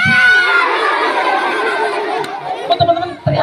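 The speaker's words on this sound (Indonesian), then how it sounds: "Kok teman-teman teriak-teriak?" Children in an audience at a science literacy show shout and chatter together in a loud, sustained burst that thins out, leaving a few short, sharp cries near the end.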